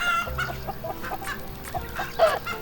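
Chickens cluck and squawk around a farm in a farming simulation game, giving several short, fairly soft calls in an irregular rhythm with no talking.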